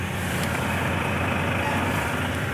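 A truck's engine rumbles loud and steady at close range as it settles to a stop at a loading dock, a continuous low drone with no voices.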